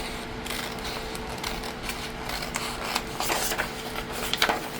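Scissors cutting paper for an envelope journaling pocket, close soft snips and rustling paper in an irregular series over a faint steady hum.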